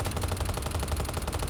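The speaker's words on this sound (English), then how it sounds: "Now, this is the standard pistol, right?" Rapid, steady shots from the standard pistol in the video game Helldivers, a fast, even burst of close gunfire filling the whole moment.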